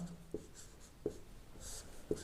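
A pen scratches out strokes during a maths lesson, three short distinct bursts spaced about a second apart, close and quiet with no talking.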